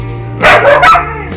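A dog barks twice in quick succession, close and loud, over a low steady background hum.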